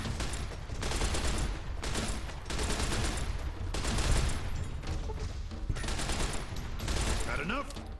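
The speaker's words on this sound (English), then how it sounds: "Then I'm going to upgrade to 10mm submachine gun" Sustained bursts of automatic fire from a 10mm submachine gun in Fallout: New Vegas during a fight with gang members, several long rattling volleys separated by short pauses, loud and close, with faint game voices in between.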